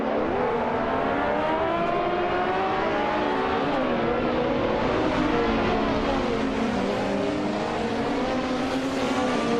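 Race cars pulling away at the start of a race in a racing video game, engines revving and rising in pitch together as the pack accelerates, a loud continuous roar with layered overlapping engine notes and occasional tire squeal.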